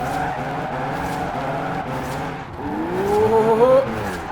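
A 1016 horsepower V8 Rocket Bunny MX5 drifting on a mountain road in the video game Forza Horizon 4: a loud, steady, buzzing engine roar, with tire squeal rising over it toward the end.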